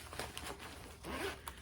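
Quick, close zipper pulls on a culinary school bag with many compartments, giving several short ripping strokes in a row against a quiet room.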